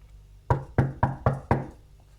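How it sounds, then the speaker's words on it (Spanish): Five firm knocks on a door in a steady, evenly spaced rhythm, close and clear, with nothing else around them. "Tocaron la puerta."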